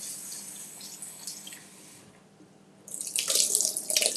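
Tap water runs into a sink as raspberries and blackberries are rinsed, starting as a gentle trickle, then briefly easing off before a louder, splashing stream takes over close by.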